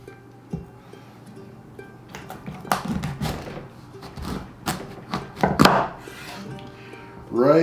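A knife chops through pumpkins to split them in half, giving several sharp thuds and scrapes on a cutting board, close and loud amid kitchen clatter, with a voice starting at the very end.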